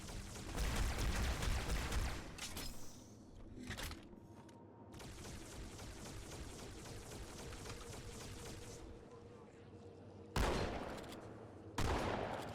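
Gunfire in the Halo 2 video game comes in dense crackling bursts, with loud volleys at the start, a sustained rattle through the middle and two sharp blasts near the end.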